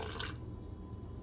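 Water trickles into a bowl while measuring 52 grams for bread dough, a short splashy pour at the start that quickly fades to quiet room noise.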